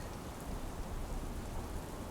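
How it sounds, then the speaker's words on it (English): Steady rain ambience effect in a stormy night scene, a dense, even hiss of falling drops that fills the whole stretch without pause; no distinct thunder clap stands out, and no one speaks. "The rain is hindering your hearing along with the thunder"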